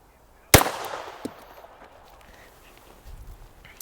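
A compensated P320 pistol fires a single loud, sharp shot close by, followed by a brief decaying echo and faint shuffling afterward.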